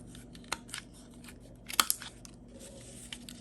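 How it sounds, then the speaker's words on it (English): Scissors trimming the corners of paper tags while making scrap-paper pockets, a few sharp close snips and crunches with a louder cluster in the middle and faint rustling between. "I'm just going to cut the tag part on each one of them"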